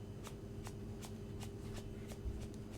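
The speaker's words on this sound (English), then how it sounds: "And then shuffle Green Sun Zenith into my library." A deck of Magic cards being shuffled during a game, soft regular riffles or slides about every third of a second, quiet and close over low room hum.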